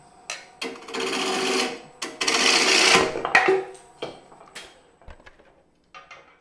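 A wood lathe spins a wobbling, untrued bowl blank while a gouge cores out the inside, giving loud bursts of scraping, chattering cutting broken by short pauses and sharp knocks, with no talk.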